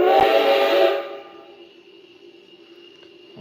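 A short, loud steam whistle blast comes from a Blunami-equipped Rio Grande F scale model train, then fades into a faint lingering hum and soft mechanical background.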